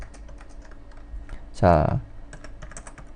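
Quick, light clicks of a computer keyboard typing steadily throughout, with a voice speaking briefly in the middle.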